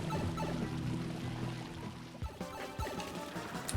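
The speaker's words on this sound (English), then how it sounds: "the flooding pipeway, which has fuzzies and the water level is going up" Water pours and rushes as the level rises in the flooding pipeway of Super Mario Odyssey's Steam Gardens, a short steady gush over tonal game music with a couple of sharp splashy hits near the end.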